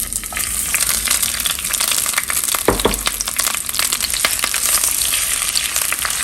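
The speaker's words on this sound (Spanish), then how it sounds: "En una cacerola con aceite vamos a agregar 3 cebollas" Three onions fry in oil in a pot, a loud, continuous sizzle with crackling and stirring scrapes close by.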